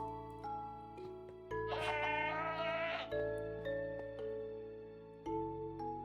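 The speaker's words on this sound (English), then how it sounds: "Surprised the goat is still around, honestly." A goat in the Minecraft video game lets out a single bleat, a short quavering cry rising over a quiet bed of steady tones, with no talking.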